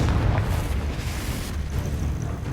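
A Confringo spell explosion from the Hogwarts Legacy video game lands as a dense, loud rumbling boom that rolls on continuously without pause.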